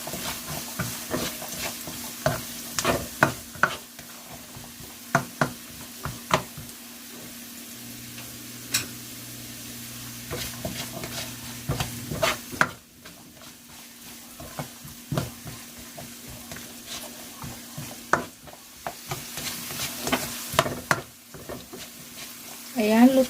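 Chopped onions and carrots for fried rice are stirred in a pan with a soft background sizzle and repeated scraping clicks of a utensil, while someone talks over the cooking.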